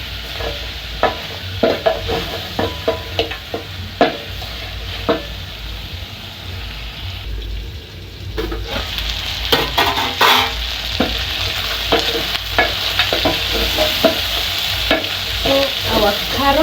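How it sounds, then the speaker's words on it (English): Onions and carrots sizzling and frying in a pot for a chicken stew, with steady close crackling and frequent stirring scrapes, no talk. "Then I'm going to allow my onions, my carrots and hoho to cook for some time."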